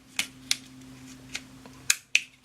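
Sharp small plastic clicks from the battery release switch on a Xiaomi Mitu Mini drone, five crisp snaps spaced unevenly, close and fairly quiet over a faint hum, with no talking.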